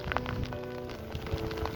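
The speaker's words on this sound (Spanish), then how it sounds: "Y no ha dejado de llover, el frío es extremo" Steady rain falls on a forest trail in extreme cold, a dense continuous patter of drops with a few louder splashes, close and moderately loud, with no voices.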